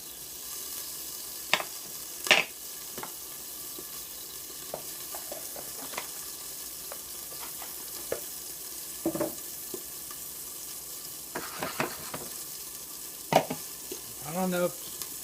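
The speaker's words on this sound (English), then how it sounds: "put some butter in the pan with the broccoli" Broccoli cooking in salted butter in a pan, a steady soft sizzle with occasional stirring clicks and scrapes, close and continuous without talk.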